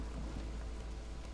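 Steady storm rain in the colony-building game Against the Storm, a soft continuous hiss of drops with a low rumble beneath, even and unbroken throughout with no talk.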